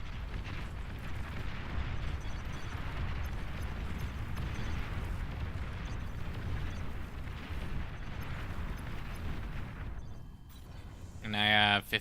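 Artillery fire in the real-time strategy game Beyond All Reason, a dense, continuous rumble of distant shelling and explosions for most of the stretch, ending in a brief sharper burst of effects; a voice talks over it.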